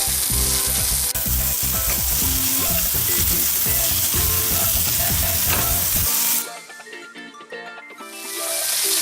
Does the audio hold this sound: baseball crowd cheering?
no